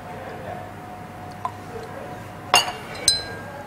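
Champagne topping up a glass of St Tropez liqueur, with a faint pour under the room and then two bright glass clinks close by, one after the other, plus a small tick just before them.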